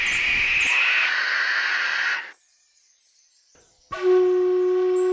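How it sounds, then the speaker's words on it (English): Masked owl in the Australian bush, giving loud, harsh rasping screeches close by, two drawn-out calls separated by a short silence, the second rougher and more strained. "Masked owls are amongst the largest and the most powerful owls in Australia."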